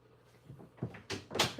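A locked bedroom door is tried, with a few short knocking rattles of the handle and door building in loudness over about a second, close by and with no talk.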